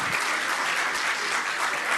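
Dense, steady clapping from an audience at a business talk fills the space evenly, a continuous crackle of many hands with no voices over it.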